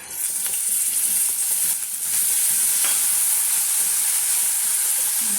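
Curry leaves crackle and sizzle in hot tempering oil for a chicken pulihora, a steady loud hiss close up with faint stirring scrapes underneath and no talk.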